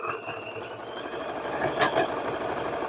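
A sewing machine runs a zigzag stay stitch around a fabric applique block, a steady fast mechanical chatter that holds close and even throughout, with a brief rise in intensity midway.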